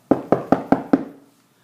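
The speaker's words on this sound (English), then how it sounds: "there is a knock at the door" Five sharp knocks on a door come in a quick, even rhythm, close and loud, and fade into silence.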